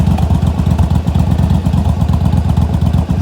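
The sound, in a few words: motorcycle engine running during a short test ride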